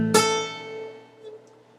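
A single high A note picked on a guitar in an A-major blues lick, one clear pluck that rings out and slowly decays, played alone and fairly quiet.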